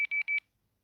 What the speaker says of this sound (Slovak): Čo to pípa, pán predávač?